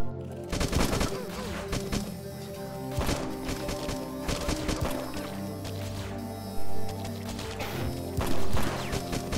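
Repeated shotgun blasts in the video game Beyond Sunset, a series of sharp, loud booming shots at irregular intervals amid other game effects.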